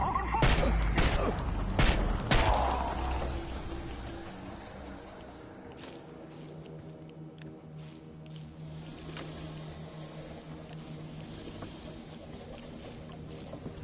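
Gunfire in the video game Chernobylite, a sharp flurry of loud close shots in the opening seconds, then scattered fainter single cracks over a low droning ambience.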